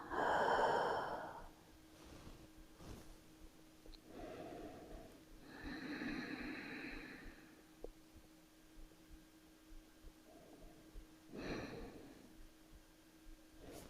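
Slow, close breaths during beginner yoga practice, a strong airy exhale at the start followed by several softer drawn-out breaths with quiet pauses in between, with no talking.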